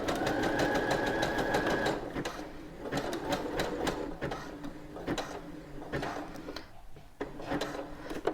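A domestic sewing machine stitches elastic onto a man's fabric boxer in close, rapid, rattling bursts, with brief pauses and a faint whir, and the motor eases off near the end.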